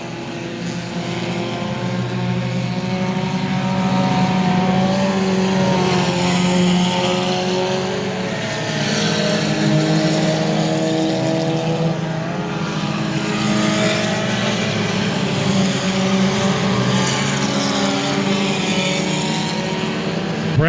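Dirt trucks race at I-37 Speedway with a loud, continuous engine roar of several trucks, the pitch rising and falling as they chase each other around the track.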